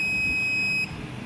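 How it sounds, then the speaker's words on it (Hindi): A multimeter gives a continuity beep while probing a capacitor pin on an i3/i5 motherboard: one steady high electronic tone lasting just under a second, then stopping. "कैपेसिटर का देखिए एक ही पिन में बीप दे रहा है"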